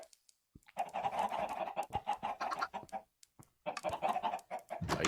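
A Minecraft chicken clucks in repeated short bursts, fairly loud and close, with brief pauses between runs of clucks and no talking.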